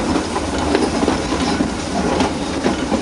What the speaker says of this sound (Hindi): यस कर्व पर यह ट्रेन पास हो रही है, निकल रही है।